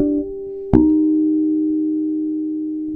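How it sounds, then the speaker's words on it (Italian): Artificial harmonic D sharp played on an electric bass guitar, a single pure bell-like tone struck sharply and left ringing steadily, close and clear, over a lingering sustained note. "quando Giacomo suona un armonico di Re diesis"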